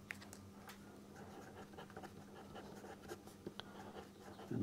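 Pen scratches across paper during a Class 11 maths lesson on linear inequalities, quiet stroke-by-stroke scribbling with a steady low hum in the room and no speech.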